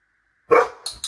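A dog barks on command, a single sharp close bark followed by a couple of short, softer noisy sounds, with no voices over it.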